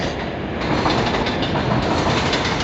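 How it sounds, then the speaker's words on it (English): A subway train rumbles past outdoors with loud, continuous roaring and faint wheel clatter that fills the whole stretch without letting up. "It's a subway behind me."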